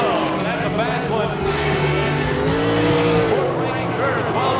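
A sprint car runs a qualifying lap at an All Star Circuit of Champions race in Eagle, Nebraska. The loud, continuous engine howl swells and dips in pitch as the car works around the track.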